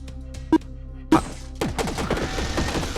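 Rapid automatic gunfire from a minigun in a sci-fi space-soldier shooter game, a dense burst of overlapping shots after two isolated loud thumps, loud and sustained with no talking.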